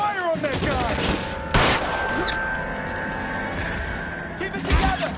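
Gunfire in a shootout in the LA Noire video game, rapid overlapping shots and sharp bursts with a loud blast, dense and close, amid shouting and battle noise.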